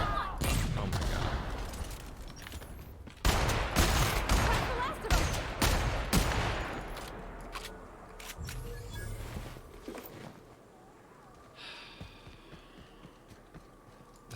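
Dense, echoing volleys of sniper rifle gunfire from the sci-fi shooter game The Outer Worlds, loud and busy for several seconds before thinning to a few scattered cracks over a low hum.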